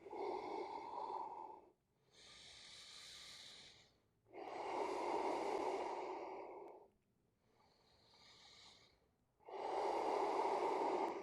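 Slow, deep breathing during a yoga pose in a guided evening class: long audible inhales and exhales alternating in a steady rhythm, close and fairly loud, with breathy, snort-like nasal edges.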